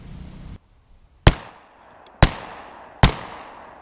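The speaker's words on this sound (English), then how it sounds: "Now this is a Remington 870 with an 18-inch cylinder bore barrel, and I've got it loaded with Remington 12 gauge, 2 3/4 inch, 1 1/4 ounce of number 6 lead birdshot" Three loud, sharp blasts from a Remington 870 12-gauge shotgun with an 18-inch cylinder bore barrel, firing number 6 lead birdshot at a car from 15 yards, each report followed by a decaying echo and evenly spaced about a second apart.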